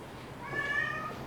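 A Bengal cat meows once, a drawn-out mid-pitched cry rising and falling over about half a second, close by with faint room noise around it.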